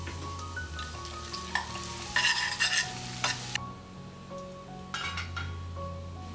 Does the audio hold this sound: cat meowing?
no